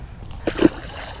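Caught pond fish released back into the water, making a brief close splash and slosh, with a second stronger splash right after.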